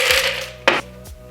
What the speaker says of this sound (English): I'm just cutting my lemon peel